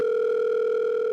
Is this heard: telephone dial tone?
yes